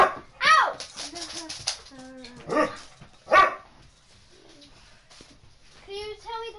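A pet dog barks several times indoors at home, sharp separate barks mixed with people talking and a voice.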